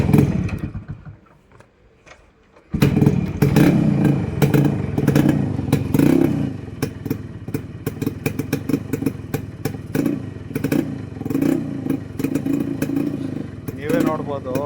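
An original Yamaha RX100 motorcycle is kick-started and its two-stroke engine catches abruptly, then runs on with a steady, close, clattering idle and uneven throttle blips.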